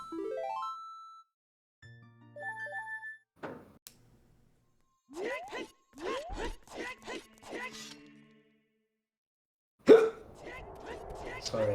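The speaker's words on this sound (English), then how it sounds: "Sorry, I have the hiccups." A man briefly hiccups while commentating over a Zelda: Ocarina of Time speedrun, a short sharp burst among electronic game tones and effects.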